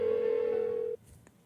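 A phone call in the video game Persona 4 Golden: a steady electronic ringback tone holds for about a second, then cuts off abruptly, leaving a faint short blip afterward.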